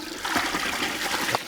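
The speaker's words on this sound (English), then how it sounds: "how much water you get out from each stroke" Water gushes out of a homemade hand pump built from plastic drain pipe, each stroke sending a close, splashing surge that swells and ebbs over a second or so, with no talking.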